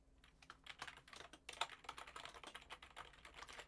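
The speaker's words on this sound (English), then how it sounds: "I'm gonna start typing this in the peer help" Quiet, steady typing on a computer keyboard, rapid irregular key clicks pattering continuously at low volume with no talking.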